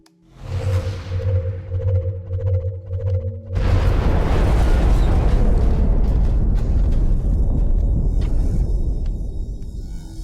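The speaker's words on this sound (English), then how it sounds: "Firing rocket." A rocket fires with a rising whoosh over a low hum, then bursts into a heavy, sustained explosion roar that fills the space before slowly thinning, in the XCOM: Enemy Within strategy game.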